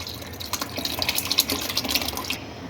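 Korma masala pouring into a pot of partly mashed dal for dal gosht, a wet, splashy liquid stream with bubbly drips running steadily for a few seconds, then stopping abruptly.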